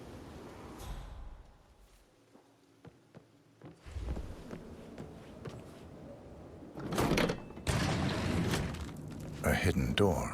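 In Hitman 3's Dartmoor manor, a hidden secret-passage door slides open with a low mechanical rumble and scrape, followed by louder shuffling bursts, while voices talk over it.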